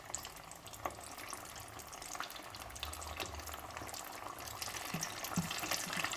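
Chicken wings sizzle steadily in hot oil during a second fry until crispy, a continuous bubbling crackle at moderate level with occasional pops and no talking.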